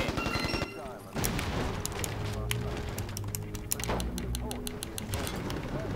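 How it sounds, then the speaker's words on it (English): Video game gunfire in a combat match, rapid volleys of shots and sharp automatic bursts crackling continuously, loud and busy throughout with layered bangs and a player's voice talking over the battle. "They're shooting at me."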